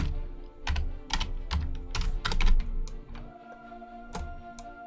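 A colour code is typed on a computer keyboard. Close, brisk key clicks come in irregular clusters, with a few scattered taps after a brief pause.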